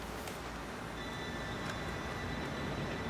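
Approaching train in Red Dead Redemption 2, a steady broadband rumble of rolling rail noise holding at a fairly even level throughout, with faint higher clanks, no voices.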